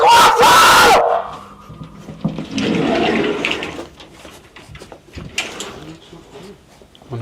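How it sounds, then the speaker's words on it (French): A man screams loudly inside a store, a harsh burst of yelling at the start followed by shouting and crowd noise echoing through the shop. "Ouais, c'est quoi ce vieux cri?"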